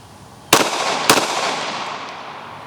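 Two sharp, loud pistol shots about half a second apart from a compact handgun fired at a target on a range, each with a short ringing decay and no talk.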